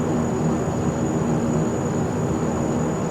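A Saab 340A turboprop's engines drone steadily in X-Plane 11, a continuous, even broadband roar with a faint high whine that holds without break throughout.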